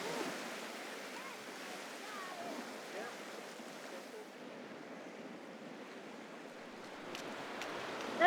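Ocean waves cross over a reef in a steady, broad wash of surf, with wind buffeting the microphone throughout and no letup.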